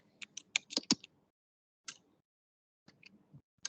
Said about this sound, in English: I'm typing my SMS mail ID here